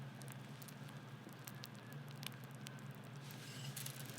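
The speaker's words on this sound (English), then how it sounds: "You can hear that crackling." Kellogg's cereal crackles and pops softly in milk as a faint, continuous fizzy patter close by, with nothing else in the sound.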